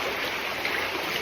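A river rushes steadily below, a broad, even wash of flowing water with no breaks, close and moderately loud.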